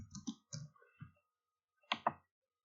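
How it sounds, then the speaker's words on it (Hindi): Mouse buttons clicked in quick pairs while working in AutoCAD, sharp close clicks spaced apart with a crisp double click near the end, no talking. "अब मैंने डबल क्लिक किया"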